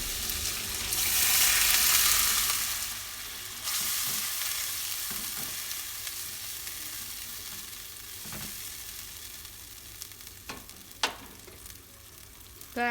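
Carrots stir-fried with fragrant spice paste for bihun sizzle loudly in a hot pan, steady hissing broken by a few scraping and clinking stirs of the utensil, with no voices.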